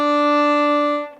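Open D string on a viola, bowed as one clear sustained note lasting about a second, close and bright, then tapering off.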